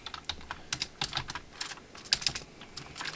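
Rapid irregular keystrokes on a computer keyboard, a quick burst of typing heard close and fairly quiet with no voices.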